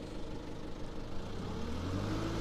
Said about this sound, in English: Accelerator, I'm testing my engine.